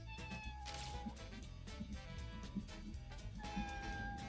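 A pet cat meows softly a few times at a quiet level, with short spaced calls over faint room background.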